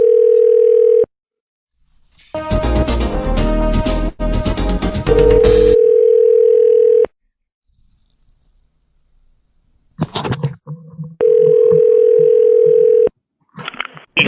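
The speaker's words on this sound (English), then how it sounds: "Let's dial in a number." A telephone handset gives a steady dial tone that cuts off and returns, broken by a burst of loud, dense tones as a number is dialed, then scattered clicks before the dial tone sounds again.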